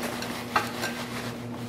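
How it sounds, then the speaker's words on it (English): A spoon stirs root beer baked beans in a pot with soft, steady scraping and a faint sizzle, including one small clink partway through, over a low background hum and without talk. "I'm just mixing it up"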